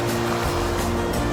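A river runs into Rampart Reservoir in the Colorado hills, giving a steady broadband rush of flowing water that stays even and moderately loud throughout the short stretch.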